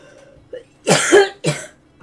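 A person coughs at close range: a short throat sound, then one long rough cough followed by a second shorter one, with no talking.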